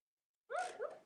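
Maya the dog lets out a short whimpering yip, then a second softer whine, close and fairly quiet after a moment of silence in an indoor studio.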